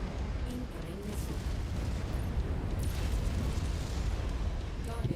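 Missile blast in MechWarrior 5 mech combat, a loud rumbling boom with crackling debris spread across several seconds under steady battle noise.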